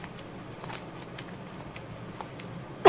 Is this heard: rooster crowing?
no